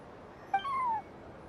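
A kitten in Genshin Impact gives a single short, high meow that rises and then slides downward, clear and close over faint background noise.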